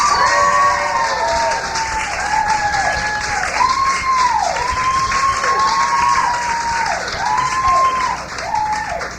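A studio audience claps and cheers to welcome a performer at a radio station's Big Room performance. The applause is loud and continuous throughout, with a bright sustained tone ringing over the clapping and a slight fade near the end.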